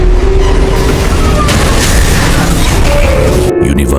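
A sound effect of the earth being destroyed: a massive, loud explosion roar that rumbles continuously for about four seconds before ending abruptly.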